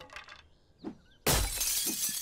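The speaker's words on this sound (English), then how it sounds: "All this glass break-in might actually bring some zombies towards us" A pane of glass shatters loudly in the video game 7 Days to Die, a sudden crash that breaks into a sustained bright spray of falling shards after a few quieter knocks.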